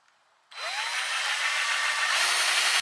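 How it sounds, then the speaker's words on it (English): A power drill bores into a window frame that may have metal inside it. The motor whines up sharply and runs loud and close for about two seconds, then cuts off abruptly. "it's very hard for me to drill into this"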